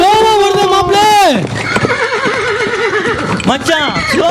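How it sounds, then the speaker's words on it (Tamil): A horse whinnies loudly in a staged comedy drama at a 2025 camp event, its rising-falling neigh followed by a wavering tail and a second brief whinny near the end; no hoofbeats stand out clearly. "நம்ம குதிரை ஸ்லோவா வருது மாப்ள"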